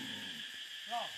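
An owl hoots once near the end, a soft low call over a steady high-pitched hiss of insects, with faint talk in the background.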